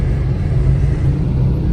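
Low, steady rumble inside a moving car, loud and unbroken throughout, a constant road and engine drone with no talk.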